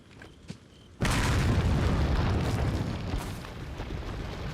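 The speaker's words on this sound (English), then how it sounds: "If I do a well-placed hand grenade," A hand grenade detonates in the horror video game Resident Evil 4, a sudden loud boom after a brief quiet, followed by a long roaring rumble that decays slowly over several seconds.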